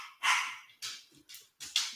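Several dogs bark and yip in short bursts at a home, fairly faint and a little distant, with brief pauses between outbursts.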